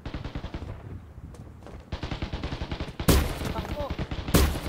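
Video game gunfire in Blockade, rapid bursts of automatic shots that grow louder with a couple of heavy blasts, while players talk excitedly over it.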